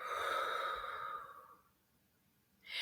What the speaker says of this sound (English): I want you to breathe out